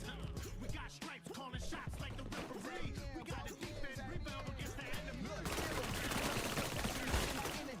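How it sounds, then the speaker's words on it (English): An automatic weapon firing in the video game My Pet Hooligan, with rapid, continuous bursts of shots over busy game sound that grows denser and louder toward the end. "An automatic weapon."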